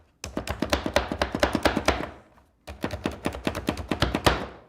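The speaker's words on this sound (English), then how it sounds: "I hope you can hear me over the chopping" Kiwi being chopped with a knife on a cutting board in a home kitchen: two quick bursts of rapid, even knife strikes close up, separated by a short pause, with no talking.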